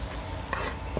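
Curry being stirred in a pot with a pot spoon, with golden curry paste in the mix: a continuous close sizzle and scraping texture, with a couple of brief spoon knocks.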